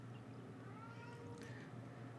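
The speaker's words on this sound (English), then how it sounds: "I'm just going to have to let the cat into the room, apparently, because he's being very noisy" A cat meows outside a closed room, a faint, drawn-out cry heard from a distance over a steady low background hum.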